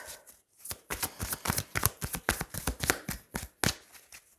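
A tarot deck is shuffled by hand, giving quick bursts of papery riffling and slapping cards. The sound comes close up in uneven rhythmic flurries over about four seconds, with no talking.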